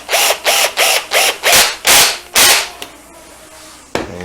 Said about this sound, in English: So I just screw in the four corners,